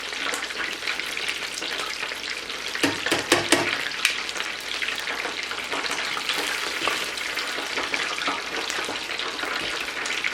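Seafood-stuffed onion rings fry in hot oil with a loud, continuous crackling sizzle and busy popping, plus a brief clatter of stirring partway through; no one talks.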